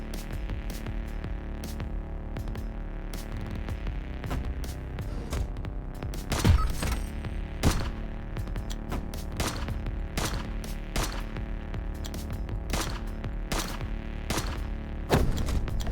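Turret fire in the video game Heat Signature: rapid sharp shots in irregular bursts over a steady mechanical hum, several louder bangs standing out, with no talking.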